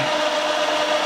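A milling machine drills a hole with a steady, loud, grinding whir that holds even and unbroken throughout.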